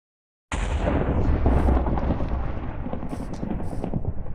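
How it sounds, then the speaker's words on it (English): A Minecraft thunderstorm on a multiplayer server breaks in with a sudden loud thunderclap that rolls on as a sustained rumble, with faint crackles above it. "Thunderstorms on the server."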